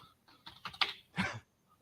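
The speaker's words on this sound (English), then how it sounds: "Sorry, I have to move this keyboard occasionally" A computer keyboard shifted and bumped on a desk, producing a few close, quick clattering knocks in short bursts before falling quiet.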